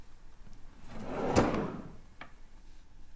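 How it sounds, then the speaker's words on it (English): A drawer slides open and shut with a rising scrape peaking in a woody thump, then a brief clack, close and fairly quiet in a still room. "I want to find the drawer that I opened and shut"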